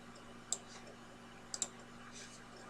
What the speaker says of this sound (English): Click the check mark.